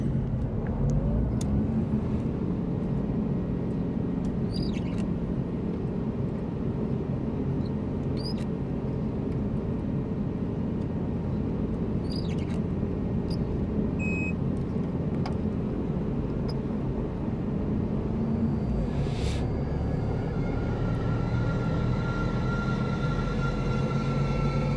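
An aircraft engine spools up in Microsoft Flight Simulator 2024, a steady loud drone with low rumble that holds throughout, plus a few faint clicks and a rising whine near the end.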